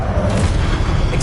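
A Confringo spell explosion in Hogwarts Legacy, played on PS5: a dense, rumbling boom that rolls on steadily without a clear break, heavy in the low end.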